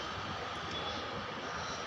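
An airplane flying overhead gives a faint, steady engine drone that stays even and distant throughout, with no speech.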